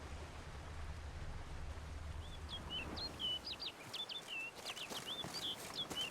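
Songbird in the Beauclair area of Witcher 3: Blood and Wine, a string of quick high chirps and tweets over soft ambient wind or water noise, fairly clear but modest in level.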